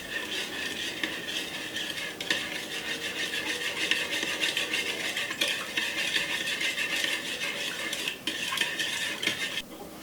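Continuous scraping and rasping of venison being sliced at a blade and pushed through with an old cup, steady metallic rubbing with occasional knocks, close up and without talk.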